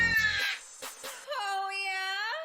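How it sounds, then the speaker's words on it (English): A crow caws in two calls, a short rough burst and then a longer drawn-out harsh wail, close and clear with no talk over it. "That was a crow."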